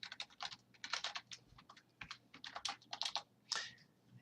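Rapid keystrokes on a computer keyboard while a C program is written, an irregular run of close, crisp clicks and taps with short pauses, no voices.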